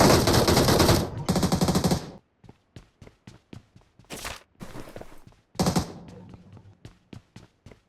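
Rapid automatic gunfire in PUBG Mobile, close and loud: a sustained burst, a second burst, then a string of single sharp shots and short bursts with brief gaps.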